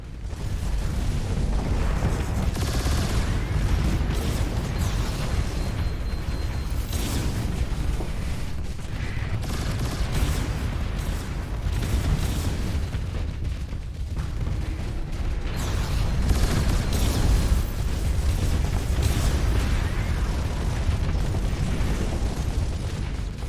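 A ship is destroyed in a space combat battle in the game Starsector, with a dense, continuous roar of explosions and booming weapon fire that stays loud throughout.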